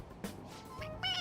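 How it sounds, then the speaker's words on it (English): A pressed stuffed toy gives a short, synthetic-sounding meow in the video game Persona 5 Royal, brief and fairly clear, with a brighter tonal chirp at the end. "It meows when you press on its head."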